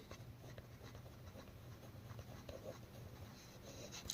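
A pen scratching steadily across paper while a geometry problem is worked out, continuous close strokes with small irregular taps, heard alone with no talking.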